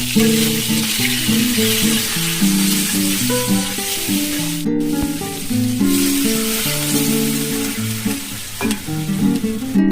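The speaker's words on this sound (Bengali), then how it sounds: "সামান্য নুন হলুদ দিয়ে নাড়াচাড়া করে এবার দেখো আমি জল দিয়ে ঢেকে দেব।" Mango pieces with salt and turmeric cooking in a pan with five-spice tempering, a loud, steady sizzle with stirring and scraping throughout, a brief break near the middle, without talking.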